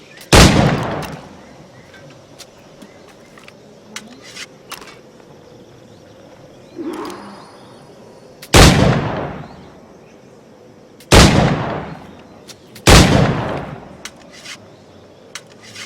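Gunfire in Assassin's Creed Black Flag: five or six loud, booming shots spaced irregularly over a steady low game-ambience rumble, each with a sharp attack and a long decaying tail.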